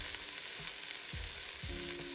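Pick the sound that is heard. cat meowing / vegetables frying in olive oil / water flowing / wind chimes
vegetables frying in olive oil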